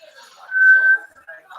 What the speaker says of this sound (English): And now you're trying to whistle.